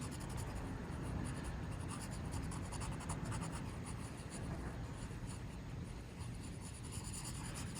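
Graphite pencil shading a photo-realistic spoon drawing on paper, a steady close scratchy rubbing of fine strokes that continues without pause and with no voices.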